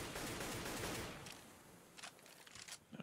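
Rapid CS:GO rifle fire sprayed through smoke grenades in an esports match, a dense, noisy rattle of shots that gives way to scattered softer bursts and thumps.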